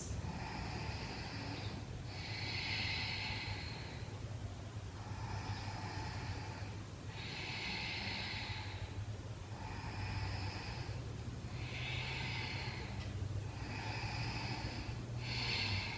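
Slow, deep yoga breaths in warrior two pose, each long airy inhale and exhale rising and falling in a steady rhythm, about eight breaths close and alone in a quiet room.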